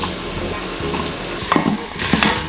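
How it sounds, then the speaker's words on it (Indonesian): Shallots sauté in about 50 ml of hot olive oil in a pan, a steady close sizzle with occasional stirring scrapes from a utensil. "kita mau tumis bawang merah"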